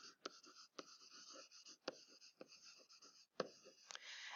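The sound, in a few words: writing down the definition by hand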